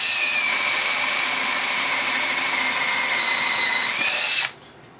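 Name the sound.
Makita 18 volt cordless drill drilling through alder wood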